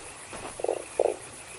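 Two short, close croaks from a toad in the Fran Bow video game, separated by a brief pause, over a faint low background.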